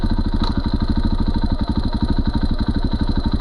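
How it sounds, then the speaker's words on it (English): Motorcycle fitted with a Rekluse auto clutch pulling away in first gear on throttle alone: loud, close engine with a rapid even pulsing beat, briefly dipping and surging as it revs. "This is a first gear throttle takeoff, no clutch"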